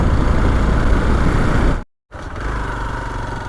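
A motorcycle engine rumbles loudly and steadily as a ride sets off on the rough mountain road from Kharadi village toward Yamunotri, cutting out for a split second before resuming.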